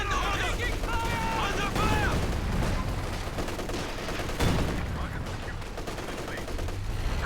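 Gunfire aimed at a Puma armoured car in a real-time strategy game, rattling in dense bursts beneath a busy battle soundscape, with a sharp louder crack midway.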